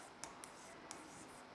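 Chalk or marker strokes on a classroom board during a maths lesson, with a few faint, brief taps and scratches over a steady low background hiss.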